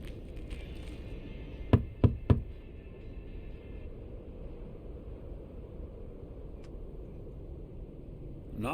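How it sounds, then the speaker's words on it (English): Knocking on a door in the video game Lake, three quick sharp raps close together over a soft ambient background hiss, followed by quiet. "Knock, knock."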